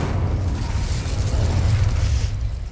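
A fire-spell blast cast with Incendio in Hogwarts Legacy, a sustained roaring burst heavy in low rumble that swells and holds for nearly three seconds, loud and with no talk over it.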